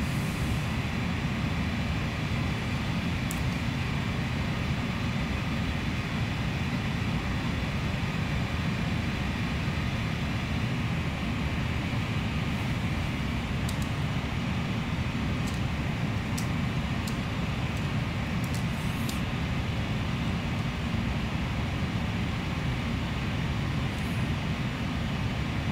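A PMDG MD-11 airliner cruising at high altitude in a flight simulator game, a constant broadband cabin and engine drone with a faint high whine, unchanging and steady, with a few tiny clicks.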